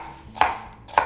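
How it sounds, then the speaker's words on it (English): A knife chops half an onion on a cutting board, two sharp, distinct knocks about half a second apart, close and clear against a quiet background. "So we're going to start by chopping up the onion."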